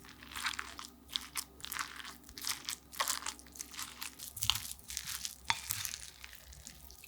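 A spoon stirs and chops Spam into rice with sesame seeds and a generous spoonful of seasoning sauce, giving steady close scraping, crunching and clinking strokes in a quick uneven rhythm with no voice.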